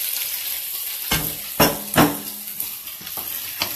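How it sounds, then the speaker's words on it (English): Sausage frying in a pan, a steady high sizzle with a few sharp clatters and scrapes of a utensil against the pan. "I'm also going to cook this sausage here"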